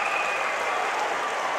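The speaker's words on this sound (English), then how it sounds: "The crowd are on their feet here" Crowd in a judo arena at the Baku Grand Slam 2014 applauding steadily after an ippon throw by Azerbaijan's Bugar Shirinli; dense, continuous clapping and cheering fills the hall throughout.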